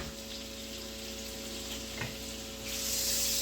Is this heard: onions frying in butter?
yes